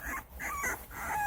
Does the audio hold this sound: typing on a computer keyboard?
no